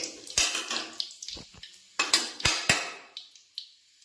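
A metal ladle clatters and clinks against a cooking pot with oil heating for cumin and whole spices, several sharp close knocks in an uneven rhythm that thin out toward the end, with no talking.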